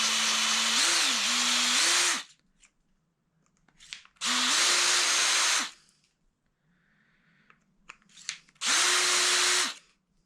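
A power tool trims an oak pen blank down to its brass tube, three long whirring bursts of a couple of seconds each, separated by short pauses with faint scraping and handling.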